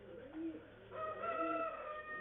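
Pigeons kept in a Tamil pigeon loft, with soft cooing and bird calls over a low steady background, fairly faint and close, with no talk.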